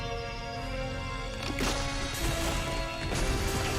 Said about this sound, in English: the screen and the fabric of reality is fucking shattering